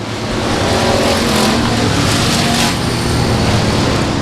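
Race cars roar around Timberline Speedway in a loud, continuous engine drone, with a slight swell as the pack passes close by.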